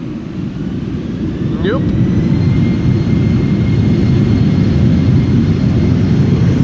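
Airliner jet engines roar continuously as planes depart Amsterdam Schiphol Airport, a loud, steady, close rumble that builds slightly and then holds, with a brief spoken word early on.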